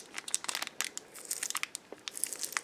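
Plastic wrapper on a Kit Kat chocolate bar crinkles and crackles in close, irregular bursts as fingers pick at a sticker stuck to it.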